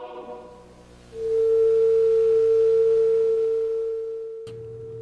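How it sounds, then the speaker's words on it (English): TV station sign-off tone: a steady pure whine that rises in and holds loud for several seconds before tapering, ending in an abrupt click and a low hum. "When I was a kid, it was very common for TV stations to have sign-offs and pull the channel off the air"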